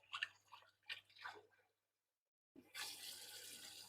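Cold tap water runs into a sink to wash marrow bones, a steady rushing splash starting after a brief silence, with a few short sounds from the bones being handled in the first seconds.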